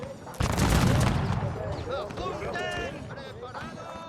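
Black powder muskets fire in a volley in the pike-and-shot battle game Total War Shogun 2, a loud ragged crackle of shots that trails into scattered battle noise, with voices and cries mixed in.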